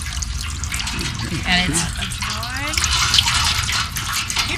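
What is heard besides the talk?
water squeezed out by turning wringer rollers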